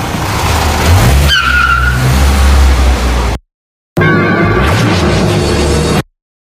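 A car drives with tyres skidding and squealing and the engine revving loudly and close. The sound runs in two bursts separated by a short silence.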